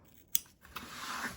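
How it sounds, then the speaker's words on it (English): A single crisp snip of scissors cutting through speaker vinyl on a zip-up turntable bag, followed by a softer sliding cut, close and alone. "make sure you're just cutting your speaker vinyl and not your bag fabric"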